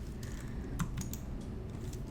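Computer mouse clicking while working in Adobe Illustrator, a few faint, sharp clicks scattered over a quiet room hum, close and soft, with no voices.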